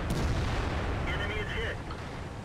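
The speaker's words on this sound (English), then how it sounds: "artillery's rife on this map" Artillery fire rumbles in World of Tanks, heard from an E-75 Tier 9 heavy tank. A dense, booming wash of distant explosions runs throughout at a fairly loud level.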